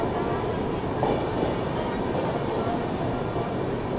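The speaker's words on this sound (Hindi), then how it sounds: "अभी हमारी ट्रेन जो है वो तेनाली जंक्शन रेलवे स्टेशन को स्किप कर रही है और बहुत ही स्लो रफ्तार में स्किप हो रहा है" The Godavari Express rolls slowly through Tenali Junction, heard from on board as a steady, dense rumble with faint wheel clatter, continuous and fairly loud throughout.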